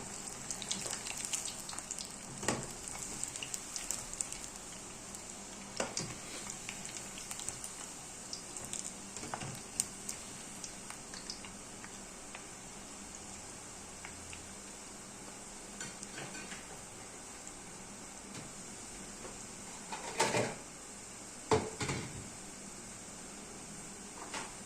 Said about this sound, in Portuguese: quando tá com o óleo quentinho, como que frita rapidinho a nossa coxinha